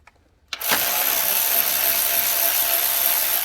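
A ratchet loosens a small 10mm bolt on the AC line of a 2005 Toyota 4Runner 4.7L, a steady rapid clicking rasp that starts abruptly after a moment of quiet and runs on close and loud.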